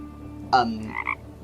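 A single frog gives a short two-part croaking ribbit, close and clear over quiet background noise.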